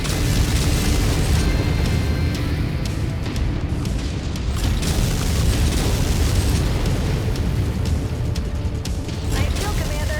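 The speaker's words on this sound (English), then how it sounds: "It's about to go all explodey." Mech blowing up in MechWarrior 5 combat, heavy rumbling blasts and crackling bursts rolling continuously for several seconds, loud and dense, with voices talking now and then underneath.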